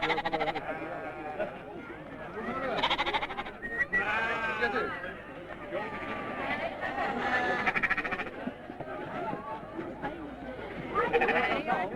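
A flock of sheep bleats loudly and continuously as it is driven into a newly built Icelandic sheepfold during a 1982 autumn round-up, with people talking over the animals throughout.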